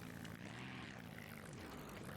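A custom plane-like engine sound in BeamNG.drive, used on a monster-truck-style vehicle, gives a steady propeller-like droning hum that stays even and loud throughout.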